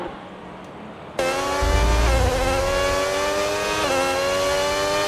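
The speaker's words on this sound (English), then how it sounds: "we got some cars out on the track" Race cars on a track: after a quiet second, an engine note bursts in loud and near, climbing in pitch with a few quick shifts and staying sustained to the end.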